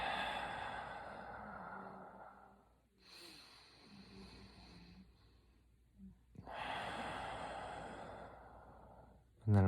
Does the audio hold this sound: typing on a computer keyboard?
no